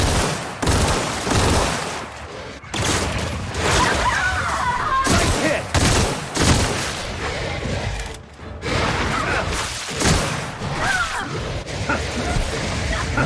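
Enemies open fire in the video game The Outer Worlds: dense, loud volleys of gunshots and impacts run almost continuously, with a voice talking over parts of the fighting.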